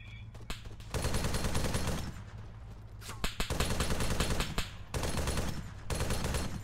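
Heavy gunfire striking an MRAP MaxxPro armored vehicle in Arma 3, dense sustained bursts of rapid impacts and shots, loud and close, broken by brief pauses.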